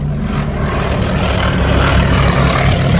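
A Grumman S-2G Tracker propeller aircraft passes low in landing configuration with gear and arrestor hook down at an airshow, giving a loud, steady, close droning roar of piston engines and propellers.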